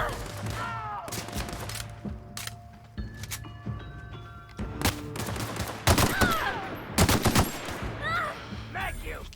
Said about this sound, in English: I'm taking a few shots here and there.